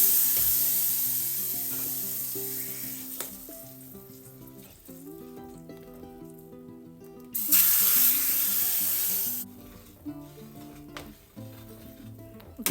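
An ingredient is added to a pot of sambar and sizzles steadily, with a louder hissing burst partway through, clatter of utensils and a faint tonal hum underneath.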